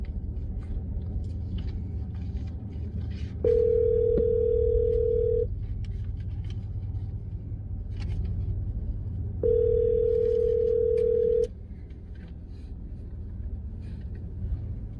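A phone call ringing out on speakerphone: two long, steady ring tones, each about two seconds and several seconds apart, loud and clear over a low room rumble with faint background movement.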